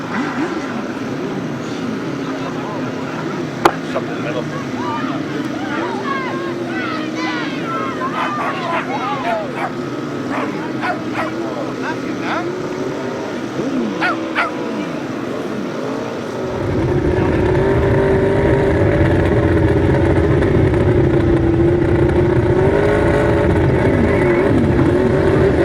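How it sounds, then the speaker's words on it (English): Grasstrack sidecar outfits, four on the line, roaring away together from the start of a first-leg race, a loud sustained engine drone that swells midway, with an announcer talking over it throughout. "First leg rides for the sidecars, 4 outfits only on that start line. So they get underway"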